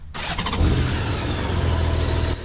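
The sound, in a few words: big-displacement motorcycle engine starting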